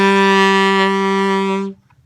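A single saxophone note E held steady and loud for nearly two seconds, rich and bright, then cut off cleanly into silence.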